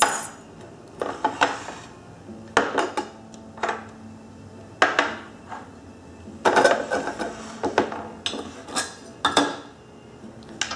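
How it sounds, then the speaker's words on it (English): Potpourri lava rocks handled on a coffee table, giving a series of close, hard clinks and rattles in irregular bursts with short pauses between, and no talk. "These are the lava rocks, the potpourri lava rocks."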